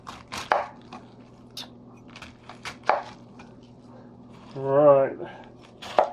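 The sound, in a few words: knife chopping food for kimchi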